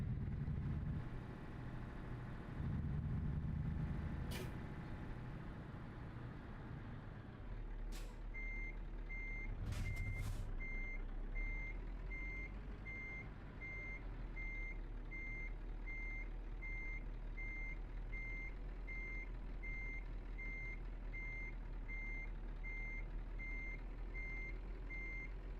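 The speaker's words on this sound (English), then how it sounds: "I'm gonna complain about those turning axles every time I reverse one of these trailers." Reversing beeps sound steadily from a truck backing a trailer with turning axles in a Greece-set driving video game, repeating evenly over low engine rumble with brief hissing bursts, no talk.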